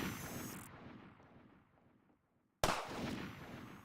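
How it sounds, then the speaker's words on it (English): Video game gunfire: a loud burst of shots that fades into near silence, then a sudden sharp report that trails off in a rumbling echo. "Oh god, he's shooting at me."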